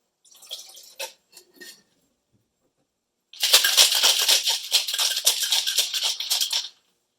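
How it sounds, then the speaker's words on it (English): Cocktail shaker with ice: a few light clinks and rattles, a pause, then several seconds of vigorous, rapid rhythmic shaking, loud and close. "Shake that to chill, and then strain into a cocktail glass."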